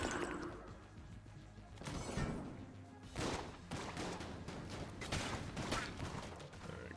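Gunfire in the video game Enter the Gungeon: repeated bursts of rapid shots and crashing impacts that rise and fall over several seconds, with no voices.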